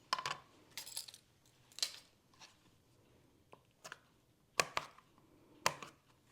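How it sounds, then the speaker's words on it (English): A knife chops big green olives on a cutting board for a Greek cabbage salad, giving about eight sharp, irregular knocks separated by short quiet gaps, close and fairly soft with no voices. "just chop them up"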